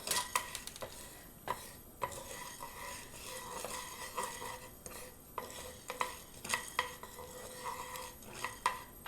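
A utensil scrapes and taps in a pan as black pepper and spices are stirred and lightly roasted, with soft intermittent clinks over a faint low sizzle.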